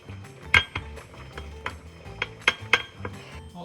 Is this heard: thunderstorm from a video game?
no